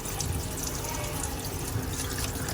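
Salted fish being washed clean under running water, a steady close rush of tap water splashing throughout with no break.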